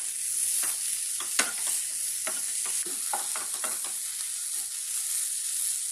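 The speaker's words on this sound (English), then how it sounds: "Add tomato. Combine well till oil separates." Chopped tomato stirred as it fries in oil in a kadai for chicken masala, a steady close sizzle broken by repeated scraping strokes of the spoon, with no one talking.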